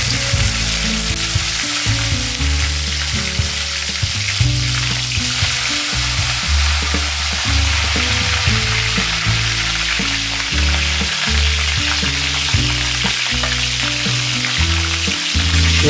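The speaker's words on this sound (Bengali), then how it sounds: "পরিণত তেল নিয়ে তেলটা একটু গরম করে নিয়ে আমরা মাঝে আছে ফুলকুড়িগুলো ভেজে নেব" Cauliflower florets frying in hot oil for a roast, a loud, steady sizzle that crackles and bubbles without pause from start to finish, close up with no voices.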